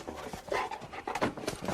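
A drug sniffer dog pants in quick, uneven breaths close by, soft and low in level, with faint rustling in the background.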